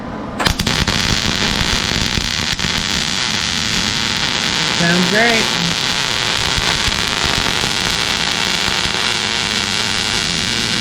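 Steady crackling buzz of a trigger-operated welder laying a tack at a welding competition, loud and continuous throughout, with people talking briefly over it.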